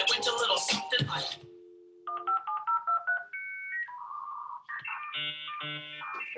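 Late-1990s dial-up internet connection tones: a quick burst of touch-tone dialing, then a run of shifting beeps and warbling handshake tones, loud and clear with no voices over them.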